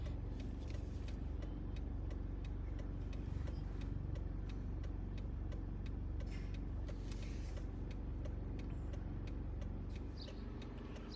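A car pulls out of a parallel parking space on a street, producing a steady, low engine hum with road noise that holds constant throughout, with faint ticking above it and no talk.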